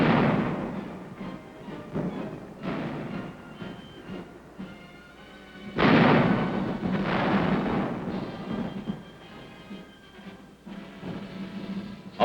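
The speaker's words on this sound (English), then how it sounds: "the tanks continue their heavy bombardment" Heavy tank bombardment from the 1951 Korean War, a run of deep booming blasts that roll and rumble over one another, with a harder, louder burst of firing near the middle.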